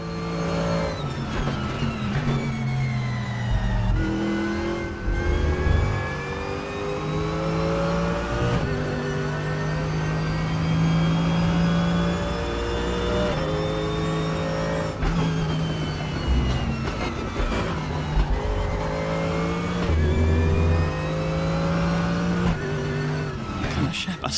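Race car engine in the RaceRoom video game, lapping Imola during a two-hour endurance event, revving steadily with rising and falling pitch through gear changes, loud throughout, with someone talking over it at times.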